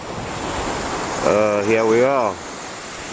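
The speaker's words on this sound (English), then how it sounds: "there's an ugly Black Sea wave coming in, blowing north" Black Sea surf rolling onto a beach at sunrise under strong north-northwest wind, a steady broad wash of waves and wind noise throughout, with someone talking briefly over it partway through.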